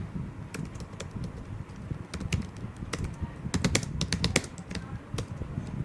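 Someone types on a computer keyboard while entering an invoice in Tally accounting software, making irregular clusters of crisp key taps. A quiet hum sits under the close keystrokes.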